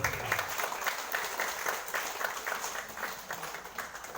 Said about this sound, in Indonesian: berikan aplaus yang meriah kepada Pak Wakil Bupati